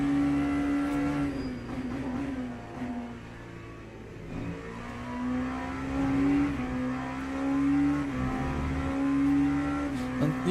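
Porsche race car engine in a sim racing game with a fixed setup, revving continuously with rising and falling pitch through gear changes, loud and steady throughout with no voices.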